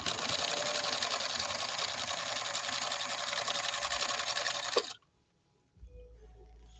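A 1965 Husqvarna Viking 2000 sewing machine running at full speed, a loud, fast, even mechanical whir for about five seconds that cuts off abruptly into near silence before a low rumble.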